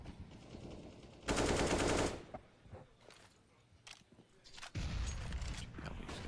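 Bursts of automatic gunfire during a professional Counter-Strike match on the Inferno map, loud sustained volleys with a short gap and then another heavy burst, with no one talking over it.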